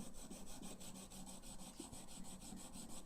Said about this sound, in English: Okay, so that's that grinding sound.